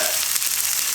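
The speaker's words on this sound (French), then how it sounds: "je vais faire cuire 5 minutes de chaque côté en commençant du côté peau" A salmon fillet sizzles steadily in a hot frying pan, a loud, even crackle with no talking over it.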